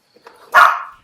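A single sharp bark from Daphne, a pet dog, loud and close, preceded by a few softer yips and snuffles, with no one talking over it.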